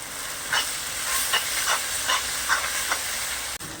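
Tomatoes and turmeric sautéing in a pan for Madurai-style chicken salna, a steady close sizzle and hiss with several scraping stirs at regular intervals.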